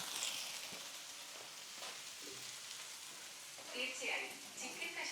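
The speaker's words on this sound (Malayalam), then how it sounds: "തീർച്ചയായും ചിക്കൻ കഷ്ണങ്ങൾ ചേർത്ത് നന്നായി വേവിക്കുക" Chicken pieces frying in a pan give off a soft, steady sizzle with a few louder crackling bursts near the end, fairly quiet and close, with faint voices in the background.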